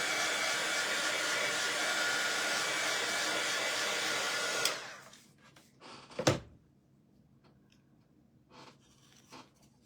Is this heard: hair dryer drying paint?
yes